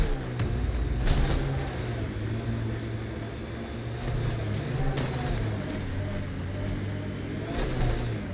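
In Mass Effect: Andromeda, an upgraded vehicle drives with a steady, loud engine drone and some rumbling bumps, continuous throughout.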